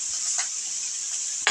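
Boiled mashed potato stirred into frying onions and chillies in a pan, a steady sizzle with soft scraping strokes of a spoon and a sharper clatter at the end.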